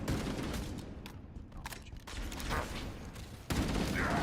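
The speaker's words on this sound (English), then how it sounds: "Assault rifle." Assault rifle fire in Halo, rapid dense bursts of automatic shots with a brief lull midway before the firing resumes loudly, with no talk.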